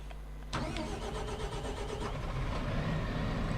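A Fendt 9 series tractor in Farming Simulator 25 cranks and fires up abruptly, then settles into a steady, rumbling diesel idle that stays close and continuous with no talking.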